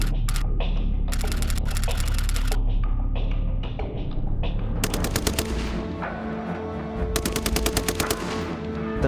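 A Browning Model 1919 machine gun in .30-06 fires several sharp, rapid-fire bursts of a few seconds each, loud and close, with short gaps and mechanical clatter between strings.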